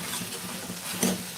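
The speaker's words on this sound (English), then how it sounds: "Just mash it like this with the spatula." Tomatoes being mashed with a spatula in a pan, a soft steady sizzle and stirring scrape with a brief louder clink or squish near the end, close and without talk.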